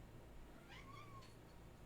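A cat lets out a single short, rising-and-falling meow, faint and brief against a steady background hum.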